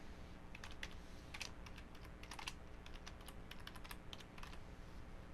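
Steady stream of quick keystrokes on a computer keyboard as a custom name is typed, close and fairly quiet, with short bursts and brief pauses and no voices.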